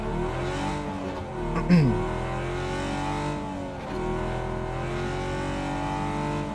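A vehicle engine in the video game PUBG hums steadily, with a brief surge and skid partway through, a continuous moderately loud drone.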